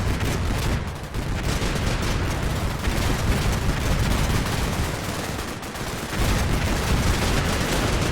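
A tank in the Combat Mission Cold War game fires a high explosive shell at distant foxholes amid dense, continuous battle noise: sustained rumbling gunfire and blasts with brief dips.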